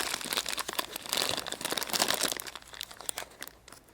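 Thin plastic wrapper crinkles and tears as a surprise egg toy is unwrapped, a dense close run of crackling rustles that fades near the end, with no talk.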